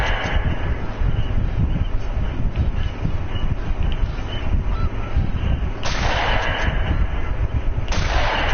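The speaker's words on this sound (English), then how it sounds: "See, that was a long shot." Gunshots ring out in the hunting video game The Hunter: Call of the Wild amid a noisy flock of honking geese, with two loud, sharp blasts in the latter half over constant bird calls.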